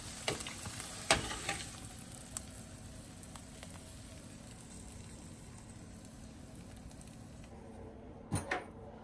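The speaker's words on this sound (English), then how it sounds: "he literally had to scrape out the pan to get every little bit of butter that he could" A frying pan holding melted butter is scraped out, giving a low, steady sizzling hiss broken by a few sharp scraping clicks near the start and end, quiet and close.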